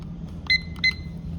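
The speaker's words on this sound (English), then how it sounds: "Timer is set for 1 minute." Two short electronic beeps from a lab timer being set during a DNA extraction, spaced about a third of a second apart, clear and close over a low background hum.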